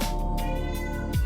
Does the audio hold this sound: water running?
no